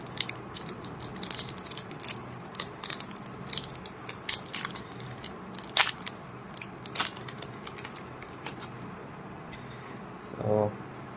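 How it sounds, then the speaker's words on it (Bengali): A One Piece trading card pack being torn open, close up, with a crisp series of crinkly tearing and crunching bursts of foil packaging under a voice talking in Bengali. "তো আরেকটা প্যাক খুলে ফেলি।"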